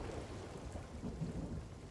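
Rain and rumbling thunder in the pirate video game Sea of Thieves fill a brief moment, a soft constant patter with a low rolling boom underneath and no voices.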